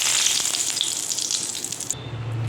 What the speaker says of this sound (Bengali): এই তেলের মধ্যে এই যে তেজপাতা ছিঁড়ে রেখেছি